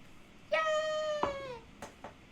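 A single house cat in a room gives one clear, drawn-out meow that slides downward, followed by a couple of soft, short bumps.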